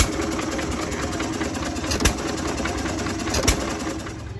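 A vintage engine-driven machine runs at a tractor show street fair, a steady mechanical chugging drone with a rapid rhythmic clatter and a couple of brief metallic knocks, fairly close.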